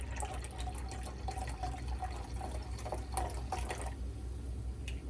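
San Pellegrino sparkling water, half a cup, poured into an Aperol spritz: a soft, steady, fairly faint pour with light fizzing and bubbling for about four seconds, followed by a brief clack at the end.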